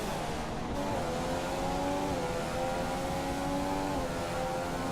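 A Formula 1 car screams through the Monaco tunnel in the F1 2014 racing game, a steady high-pitched engine whine holding near full revs with slight pitch shifts, loud and alone with no talk.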